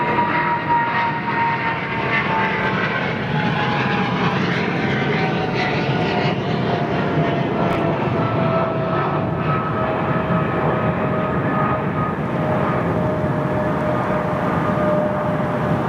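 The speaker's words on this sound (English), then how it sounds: "777-200, still making a great noise" A Boeing 777-200 departing Heathrow sends out a steady, loud jet engine roar, broad and constant for the whole stretch with a faint rising whine, and no voices.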